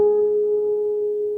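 A single guitar note slides along the G string in a riff, sustaining steadily and close, slowly fading with no voices.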